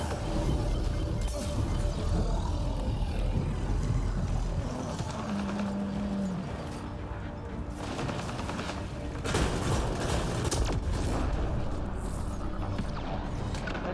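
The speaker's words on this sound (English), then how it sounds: "That sounds like an Ascendant somewhere over here." Combat in Mass Effect Andromeda multiplayer with an Ascendant enemy nearby, dense bursts of gunfire, booms and impacts over a constant rumble of battle, loud and close, with no clear talk.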